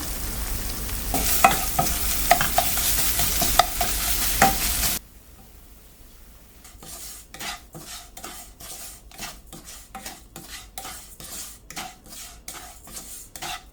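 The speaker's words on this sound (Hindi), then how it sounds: "मावा डाल के अभी थोड़ा भून लूँगी" Mawa (milk solids) roasting in ghee in a pan, a loud frying sizzle with a spoon scraping for several seconds, then a quieter stretch of rhythmic stirring and scraping against the pan, no talk.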